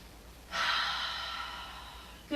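A single long, airy exhale during a yoga pose, a steady breath held for nearly two seconds, close and soft, with a quick inhale at the end.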